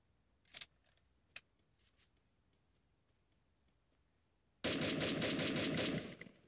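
Gunfire in the video game Free Fire, a few sharp isolated shots followed after a quiet pause by a loud sustained burst of rapid automatic fire, no talk.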